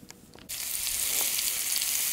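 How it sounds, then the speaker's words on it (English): Italian sausages hit a hot pan in a winter yurt and burst into a steady, bright sizzle that starts abruptly and continues loud and close with no talking. "we're cooking Italian sausages"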